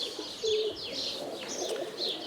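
A roller pigeon coos in low, soft, repeated notes at close range, over a quiet background with faint chirps from other birds.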